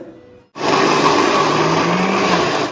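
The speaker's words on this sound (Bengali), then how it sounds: "তো এবার এই পেঁয়াজ, আদা, রসুন আর এদিকে কাঁচা লঙ্কা এই সমস্ত কিছু এবার মিক্সিতে একদম গ্রাইন্ড করতে হবে।" After a brief quiet start, a kitchen mixer grinder switches on abruptly, whirring loud and steady as it grinds onion, ginger, garlic and green chilli, with a continuous motor whine that slowly shifts in pitch.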